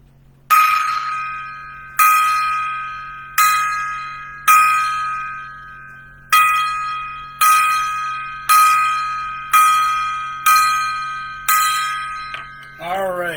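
A gong struck ten times in a salute to the late Ace Frehley of KISS, each ringing strike landing about a second or so apart and decaying with a long shimmering tail, loud and close, with a steady low hum underneath.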